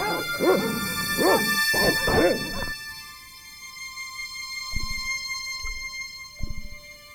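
Dogs bark in the Broken Sword adventure game, three sharp close barks in quick succession over a steady tonal background, followed by a few fainter thumps and knocks.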